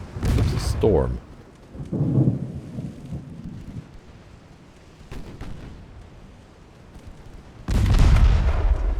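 Stormy weather in the naval video game Ultimate Admiral Dreadnoughts: heavy rumbling thunder bursts at the start and end over steady rain noise, with a few faint talk-like sounds between the rolls.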